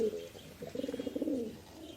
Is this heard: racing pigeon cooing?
yes